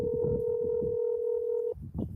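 A telephone tone sounds while a call is placed to Paula, holding as one steady, clear note for under two seconds before cutting off, with faint background noise around it.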